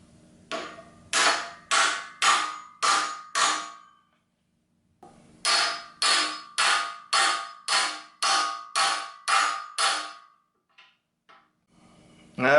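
An old Craftsman manual impact screwdriver is struck by a hammer in two sharp, evenly spaced bursts of metallic blows, five and then about nine, close and loud, followed by a few faint clicks.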